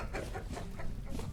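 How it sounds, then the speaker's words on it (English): Chicken in the video game Vintage Story, making soft clucking calls repeated in a loose rhythm at moderate loudness against a steady game background. "well, goodbye, chicken."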